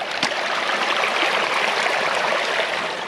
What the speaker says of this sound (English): A fair amount of water coming from the town road as well as from my road in the field there